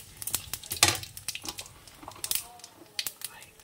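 Dried red chillies and cumin seeds crackle and sizzle in hot oil, with irregular pops and stirring scrapes in a pan; a voice is faintly present.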